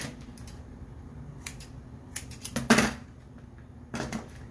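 Scissors snip through paper in short clustered bursts while trimming decorations for a fake Candy Land display cake, close and fairly quiet with gaps between cuts.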